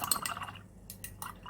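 Paint brush swished and tapped in a glass jar of water while working on a mixed media art journal page, giving a few close, soft liquid drips and clinks in short bursts, no voices.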